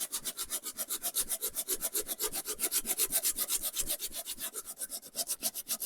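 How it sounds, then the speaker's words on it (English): Sandpaper rubs back and forth over wooden parts being aged, a rapid, even rasping stroke repeating about four times a second, close and steady with no voices. "I'm going to sand it and age all of these parts as well with my sandpaper"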